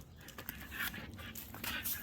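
A dog playing with a stick outdoors pants in quick, soft rhythmic breaths close by, with faint rustling and small bumps underneath and no voices.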